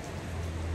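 Steady rain falls outdoors in the Puncak highlands, a dense, even hiss of drops with a low rumble beneath, constant and fairly close throughout the short stretch.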